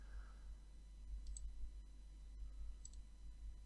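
Computer mouse clicks while building a web page, a few light, faint ticks spaced irregularly over a low steady hum, with no talking.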